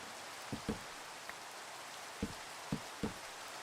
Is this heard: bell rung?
no